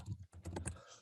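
Keys tapped on a computer keyboard at a desk, a quick soft burst of clicks with one short pause, close and quiet, no talking.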